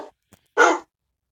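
A Minecraft dog gives one short, loud bark after a couple of faint blips, close and otherwise silent.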